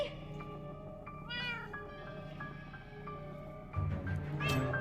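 Winslow, a cat in the video game Minecraft: Story Mode, meows in a few drawn-out calls over steady game music, close and clear.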